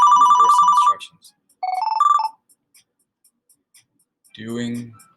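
A phone in the Twalkers video game rings with a short electronic ringtone melody, then a second rising burst, followed by a brief voice near the end.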